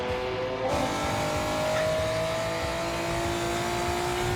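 A drift car in Gran Turismo 7 screams at high revs, its engine tone holding steady and loud with rising pitch and tire squeal, close and continuous after a brief gear change near the start.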